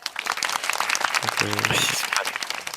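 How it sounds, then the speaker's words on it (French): Audience applause for a team at a tournament: dense, steady clapping filling the whole stretch, with a voice briefly heard over it midway. "Vous pouvez les applaudir"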